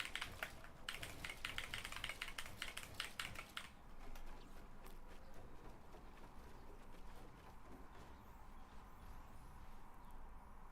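A computer keyboard resting on a lap clatters with fast, dense bursts of keystrokes during gaming, thinning after a few seconds into scattered, quieter taps over faint background hum.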